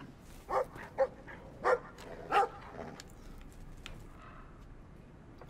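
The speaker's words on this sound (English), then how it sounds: "Farmer Maggot's dog is not very nice." A farm dog barks in the video game Brothers: A Tale of Two Sons, four sharp barks in quick succession at moderate distance, then fading into soft ambient game sounds with no talking.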